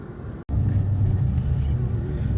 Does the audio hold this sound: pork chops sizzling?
no